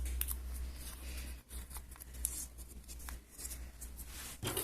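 Scissors snip through paper while a puppet is being cut out, giving a few brief crisp cuts over a steady low hum, fairly close and moderately quiet.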